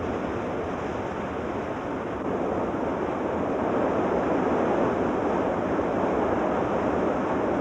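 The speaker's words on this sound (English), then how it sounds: "Mineral-laden water from the melting snow forms rich, cascading streams at the foot of the Tetons." Mineral-laden meltwater streams cascade at the foot of the Teton mountains in a steady, full rush of turbulent water, with no voices and a slight rise in strength partway through.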